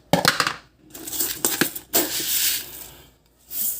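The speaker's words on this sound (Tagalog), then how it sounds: "kuha tayo muna ng bigas" Uncooked rice is scooped up for cooking, giving a series of dry, grainy rustles and crunchy pours in uneven bursts with short pauses, heard close and without voices.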